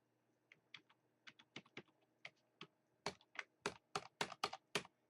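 Computer keyboard keys pressed in quick, irregular taps, close and fairly quiet at first, then growing louder and denser into a rapid run of clicks near the end, with no voices.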